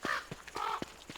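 A tallbird near its nest in the video game Don't Starve gives several short, harsh, crow-like squawks in an uneven rhythm, fairly close and alone.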